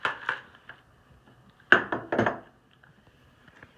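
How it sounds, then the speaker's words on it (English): Stained glass pieces being cut over a tray, giving a few sharp clinks and scratchy taps in short bursts separated by quiet pauses. "Make sure you cut into the tray because there'll be little glass pieces that fall off."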